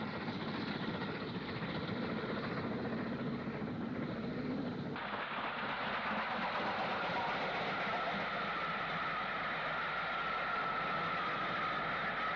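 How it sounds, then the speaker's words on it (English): Class 5 steam locomotive 73171 hauling a service train past on the Southern, a sustained loud rolling rumble of wheels and carriages that shifts in character partway through as different stock goes by. "Normal service trains ran by with standard class power, including Class 5 73171, the ultimate member of the class"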